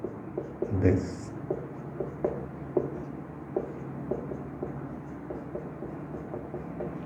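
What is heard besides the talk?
writing on a board while explaining math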